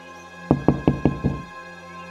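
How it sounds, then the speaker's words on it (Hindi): Loud pounding on a house door, five heavy, evenly spaced thuds close by over a faint steady hum, then a brief pause before another sound starts. "ये कौन है इतनी जोर जोर से जो दरवाजा पीट रहा है?"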